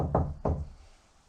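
Two firm knocks on the fabric of an old building during a night investigation, close and distinct about a third of a second apart, each with a short dull resonance, no voices.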